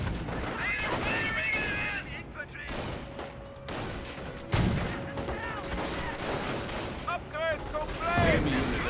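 Company of Heroes battle with rapid rifle and machine gun fire crackling throughout and a heavy mortar impact near the middle, a voice talking over the combat.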